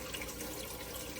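Water in an indoor hydroponic tower garden, pumped up through the centre and cascading back down through the planting ports, a soft, steady trickling and splashing that stays faint throughout.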